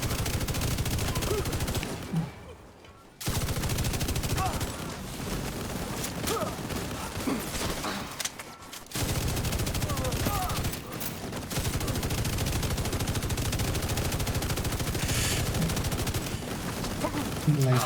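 Minigun fire in a video game, a dense, continuous rattling roar in long bursts broken by short pauses, loud and close, with talking mixed in.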